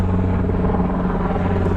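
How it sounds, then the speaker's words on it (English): A military airplane passes over a house, a loud, deep droning rumble with a steady low hum that fills the air without pause. "A lot of airplane action over my house. That looks like military right there."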